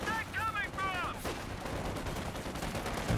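A .50 cal machine gun fires in the Company of Heroes 2 video game, rapid bursts of gunfire mixed into battle noise, with a voice talking over the clip.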